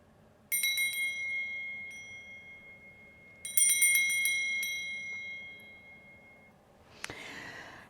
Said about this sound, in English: I'm going to invite this beautiful bell to chime us in